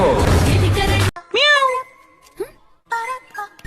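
A person voices a few short, cat-like meows in a row after a moment of speech, wavering and close, one voice mimicking a cat.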